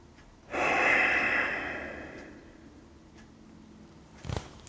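One deep, drawn-out breath during a beginner yoga session, loud at first and then fading, with a short sharp sniff near the end and no talking.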